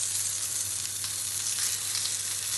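John Stone beef steak sears on a hot grill, giving off a steady, dense sizzle that stays close and even throughout without a pause.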